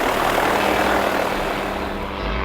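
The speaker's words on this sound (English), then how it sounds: "He got into a miniature plane and flew away" A miniature plane flying away, a loud steady propeller-engine drone filling the clip and easing slightly toward the end.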